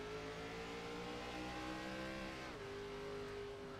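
Onboard an ARCA Series stock race car at Bristol, the engine drones steadily at high revs with a brief pitch drop as it lifts and backs off, constant and fairly faint in the mix.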